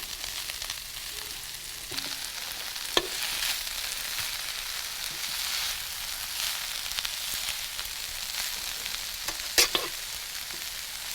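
Wild greens, including stinging nettles, mustard greens and wild kale, frying in a hot pan: a steady, even sizzle with occasional crackles and stirring clicks, close up, with no talking.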